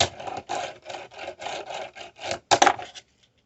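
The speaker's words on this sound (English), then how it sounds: "it makes a crazy sound when you use it as a mani pad this way" A fingerboard scrapes repeatedly across a wooden pallet used as a manual pad, giving a string of close, gritty rubbing strokes in a steady rhythm before a louder final scrape and a sudden stop.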